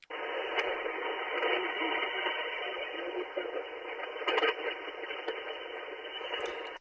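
Steady band noise hisses from a ham radio receiver, a continuous static roar with faint crackles and brief bursts, no clear signal coming through.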